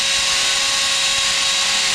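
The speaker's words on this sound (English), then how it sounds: "So we drill through the wood, and then we start that concrete hole." A power drill whines loudly and steadily, boring a hole into concrete after passing through wood in a garage, a continuous high-pitched grinding drone up close with no talk.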